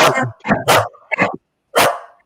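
Duke, a dog, lets out about five sharp, loud barks close by, three quick ones, a fourth after a short gap, and a final bark after a pause.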